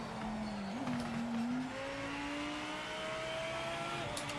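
A race car in Project Motor Racing drones at high revs as the engine climbs steadily, with a thin tyre scrub whine over the top. It stays loud and continuous, with no voices.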